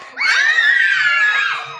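A group of children in a classroom scream together on cue during an emotions song, a loud, shrill, sustained burst of about one and a half seconds with no talking.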